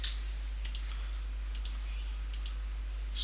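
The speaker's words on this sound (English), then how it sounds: "holding down Control and left clicking on the map" A computer mouse clicks in a map editor, sharp light taps arriving in quick pairs roughly once a second against a quiet background.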